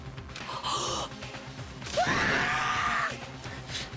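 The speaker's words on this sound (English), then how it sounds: "That was quite the scream." A character in the Danganronpa video game lets out a short gasp, followed by a longer rising, wavering scream at moderate volume.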